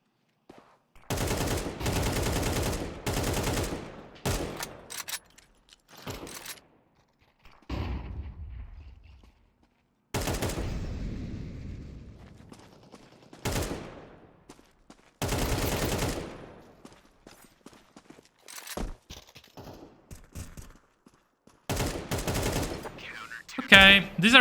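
Counter-Strike 2 gameplay with repeated sharp gunshot bursts separated by quiet gaps, some rapid volleys and single shots, loud and close, with a voice speaking at times.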